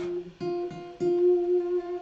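A single F note on a guitar's G string is plucked several times in a row, ringing clearly and close, each pluck sustaining briefly before the next.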